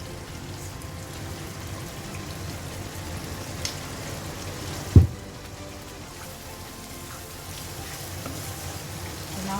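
Chili sambal with chili powder and salt cooking in oil in a covered pan, a steady soft sizzle and crackle throughout, with one brief knock partway.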